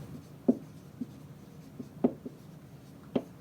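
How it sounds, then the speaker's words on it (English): Pen strokes on the paper of a prayer and praise journal, quiet and close, with three distinct scratchy taps and a few softer scrapes spread over a few seconds. "I am writing prayer and praise"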